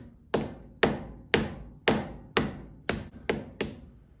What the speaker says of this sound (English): Let me give it a little tap tap.